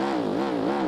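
In a driving video game, a car engine runs rough with a loud, wavering buzz whose pitch dips and rises unevenly, heard close and alone in a brief stretch.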